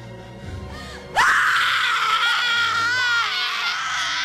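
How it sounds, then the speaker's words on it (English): A person lets out a loud, sustained scream that bursts in suddenly after a brief stretch of quieter voice, holding strong and unbroken for about three seconds. "Stop screaming, you're making this awkward."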